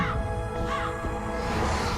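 A raven caws in a short burst of harsh calls against a dense, steady background of music or sound effects from a television drama scene, with no talking.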